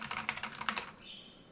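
Rapid clicky keystrokes on a performance gaming keyboard patter close up for about a second, then give way to a faint high hum, with no voices.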